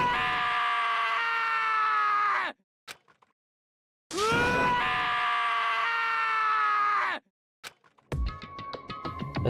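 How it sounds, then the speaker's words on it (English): Taka from the video game Danganronpa: Trigger Happy Havoc lets out long, anguished, wailing screams, two sustained loud cries split by silence, followed by a shorter burst of strained vocal noise. "As Taka's sad screams invaded our skulls"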